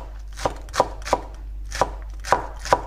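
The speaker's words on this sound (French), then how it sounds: "Après, je vais ciseler une branche de chive. Il faut couper très finement." A knife finely chopping chives on a board for a beef marinade, six crisp separate cuts in an uneven rhythm, close and clear with a low steady hum beneath and no talking.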